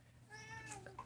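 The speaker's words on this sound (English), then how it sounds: "Hi, cat." A single drawn-out cat meow, close and moderately quiet, rising then falling over about a second with no talk over it.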